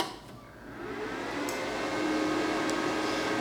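A Daesun plasma cutter powers up with a steady fan-like whoosh that rises slightly and then holds, with two faint clicks partway through, close by and unaccompanied by speech.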